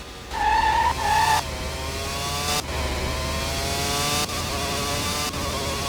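A Formula 1 race car engine in the PS1 racing game Formula 1 97 revs loudly through its gears. The pitch climbs and then drops sharply at each of several upshifts, with no talking.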